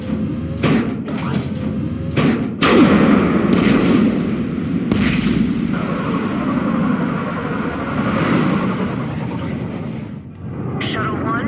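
Heavy gun emplacements firing during a shuttle launch in the Mass Effect 3 game: a dense, loud battle bed of repeated sharp gun blasts over a sustained engine roar, with voices talking over the action.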